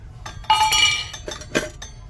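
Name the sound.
opening a tiffin lunch box, metal clinking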